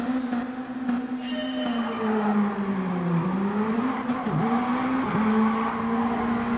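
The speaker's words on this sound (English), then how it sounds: "See how these BAC monos get on around these first couple of corners." BAC Mono race cars launch from a standing start and charge into the opening corners, engines roaring loud and continuous with rising and falling revs, gear-change dips and brief tyre squeal.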